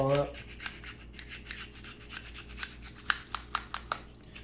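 Garlic is ground up for an easy homemade alfredo sauce, giving a soft, steady rubbing and grating noise with repeated scraping strokes that sharpen into a few distinct scrapes near the end, close and quiet, with no one talking.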